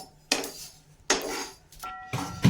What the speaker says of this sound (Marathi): हे बघा कुसुमताई गुळ पण फोडत आहे.